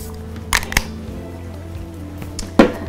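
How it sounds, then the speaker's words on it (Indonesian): Face mist spray hissing from a pump bottle in short, sharp bursts, two close together and then one more after a pause, with faint background hum. "kalau makeup pertama aku selalu pakai semprot-semprot muka dulu"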